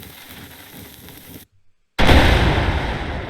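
A tank in a multiplayer video game fires a shot and destroys its target: a brief quiet gap, then a sudden loud, broad blast that holds as a sustained roaring explosion rumble to the end.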